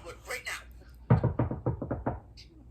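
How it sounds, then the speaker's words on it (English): A brief voice gives way to a quick series of about eight sharp knocks on wood, evenly spaced and fairly close. "Knock on wood right now."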